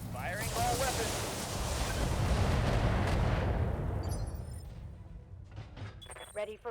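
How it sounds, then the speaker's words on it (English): A BattleTech mech unloads all its weapons at once in a loud, dense barrage of booming fire and blasts that roars for several seconds, then trails off into scattered thuds and mechanical sounds. "Firing all weapons."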